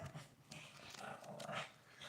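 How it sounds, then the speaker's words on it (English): A pet dog plays with a woman indoors, letting out soft growls, pants and small whimpers at close range with no talk. "My dog is having fun with my wife."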